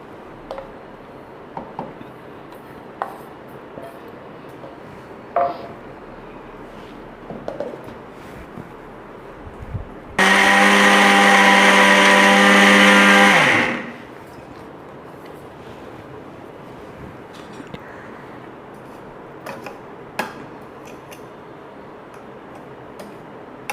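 An electric grinder runs loud and steady for a few seconds, whirring as it grinds dried coconut copra into powder, then stops abruptly, with quiet room noise and faint clicks before and after.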